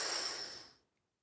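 A single deep inhale during a lower-body stretching session, a close, airy breath that fades smoothly over under a second into silence.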